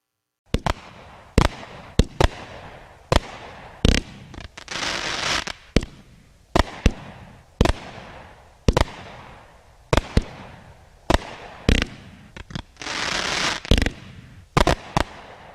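A Shoot the Works 200-gram firework cake fires shot after shot, each a loud sharp bang, some with crackling tails, in a rapid irregular barrage that runs throughout.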